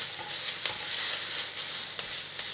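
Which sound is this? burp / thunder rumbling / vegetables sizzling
vegetables sizzling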